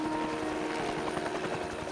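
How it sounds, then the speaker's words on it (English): A helicopter lands in the video game James Bond 007: Blood Stone, its rotor thumping in quick, even pulses under a low, faint drone. "That's why the helicopter is landing outside your hotel."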